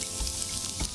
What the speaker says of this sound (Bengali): ঘি দিয়ে এরপরে আমি এর ভেতর দিচ্ছি অল্প আদা কুচি